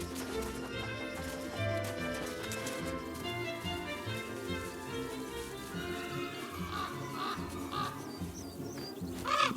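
A crow caws in the French countryside, rough calls heard faintly over music, with a few brief chirps rising near the end.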